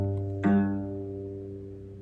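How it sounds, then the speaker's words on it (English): A cello sounds a single sustained G2 note, a rich low bowed tone with a soft attack swell that slowly decays over about two seconds, alone and close. "This first example is a cello playing G2,"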